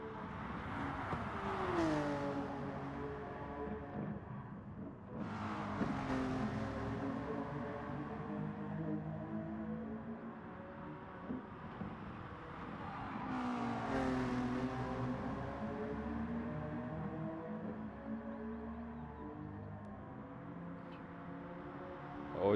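Race car engines from a sim racing game rev and whine as several cars pass, with rising and falling pitch sweeps and repeated gear-change surges, loud and continuous across the stretch.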